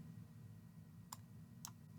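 Two sharp clicks of a computer mouse, about half a second apart, pressing an OK button during a software demo; quiet and close over a low steady hum, with no talking.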